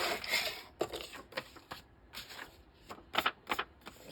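Scissors cutting paper for a junk journal: a short series of crisp, close snips and rustles, fairly quiet, with small pauses between the cuts.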